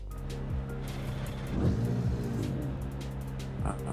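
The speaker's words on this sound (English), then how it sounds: "Got to love a backwards BMW in a pits." A BMW race car creeps backwards through the pits, its engine idling with a low steady tone and a brief swell of revving partway through, heard at moderate distance with no talk.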